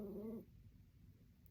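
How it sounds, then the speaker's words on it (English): A small pet dog gives a brief, soft whimpering whine, close but faint, which stops after under half a second and leaves quiet room hiss. "I've got a little doggy and she's making some little noise"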